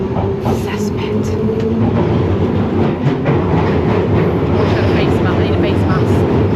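Steady, loud rumble and rattle of a London Underground tube train while riding inside, with continuous low roar and faint clatter and mumbled voices mixed in.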